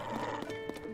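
A horse in the video game Tears of the Kingdom gives a short neigh with hoof clops, clear and close against game background sound.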